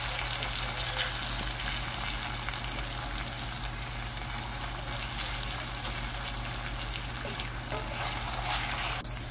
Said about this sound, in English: just continue to get the mushrooms, release that moisture from the mushrooms, and to get them nice and brown